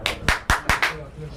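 Five sharp hand claps in quick, fairly even succession, close and moderately loud, followed by a brief quiet tail.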